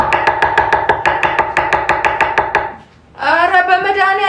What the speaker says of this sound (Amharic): አየሽም ሽንኩርት እንዴት እንደምከትፍ